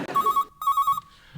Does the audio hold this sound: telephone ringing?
yes